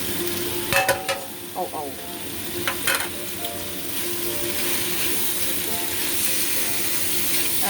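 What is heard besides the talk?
frying pork and vegetables in a pan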